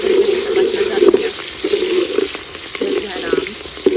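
Green chilies dropped into hot ghee sizzle loudly and close in bursts, with crackling frying noise and the clink of stirring, while someone talks.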